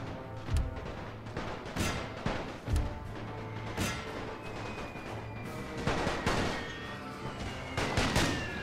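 Artillery bombardment in the First World War game The Great War 6.0, with shells aimed at a church: repeated heavy booms and cracking impacts over a constant rumbling din, loud and continuous for several seconds.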